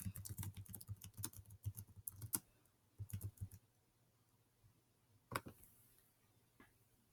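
Computer keyboard typing in bursts of quick clicks, fairly faint, with brief pauses and a later isolated cluster of keystrokes, no voices.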